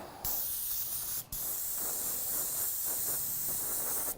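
A steady hiss of spray paint aimed at a resin game piece, with a short pause partway through before the spraying resumes, close and continuous.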